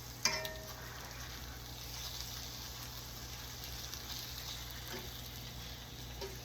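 Pork chops browning in a pan, a steady, soft sizzle and crackle with a single brief clink near the start and no talking.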